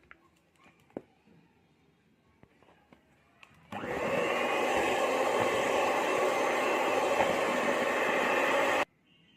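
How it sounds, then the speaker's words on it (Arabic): An electric egg beater whips softened butter with sugar in a home kitchen, starting abruptly as a steady, loud motor whir that runs unbroken for about five seconds and then cuts off, after quiet handling noises. "هبتدي بقى اضربها بالمضرب البيض"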